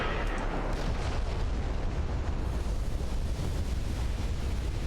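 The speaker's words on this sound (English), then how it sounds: "this is called a flash fire" A warship erupts in a flash fire explosion during a naval battle in Ultimate Admiral: Dreadnoughts, with a loud, sustained roar and rumble that runs unbroken for several seconds and has no speech over it.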